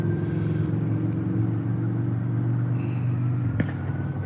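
Cars passing on a road, a continuous low rumble of traffic with tyre and engine noise that stays steady and close throughout, ending in a brief bump, with no voices.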